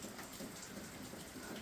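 Steady rain falls outdoors by a garden, a soft, even hiss of drops throughout, faint and unbroken with no voices.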